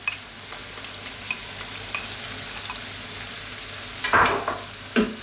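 Pasta is stirred into a pan of sizzling bacon, mushroom and tomato sauce, with a soft continuous sizzle under occasional scraping spoon strokes and a couple of louder clatters near the end.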